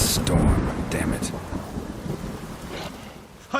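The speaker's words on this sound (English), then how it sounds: "Storm, damn it." Thunder rumbles through a stormy sky in The Witcher 3: Wild Hunt, a loud, rolling low roar with wind and rain hiss, heard close and alone.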